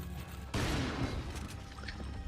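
A gunshot burst in Resident Evil 4 erupts suddenly after a quiet start, followed by a noisy, rumbling decay with faint scattered crackle.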